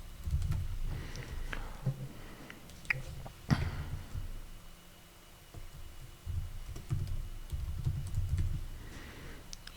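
Fingers typing text on a computer keyboard, close and fairly quiet, in uneven bursts of rapid key clicks with brief pauses and one sharper tap midway.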